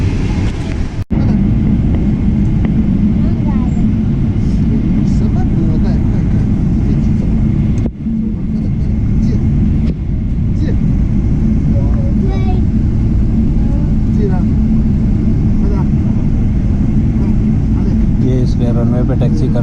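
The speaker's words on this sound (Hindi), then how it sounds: "रनवे पे टैक्सी करना शुरू कर दिया ना" An airliner taxiing on the runway after landing at Shenzhen, heard from inside the cabin as a loud, steady engine drone and rumble with a couple of brief thumps.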